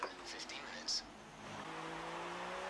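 A Sauber Formula 1 car sliding around the Singapore street circuit in F1 2016: a faint, steady engine whine rising in pitch, with a short squeal near the start and a voice talking over it.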